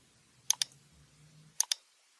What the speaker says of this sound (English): confirm all windows by clicking OK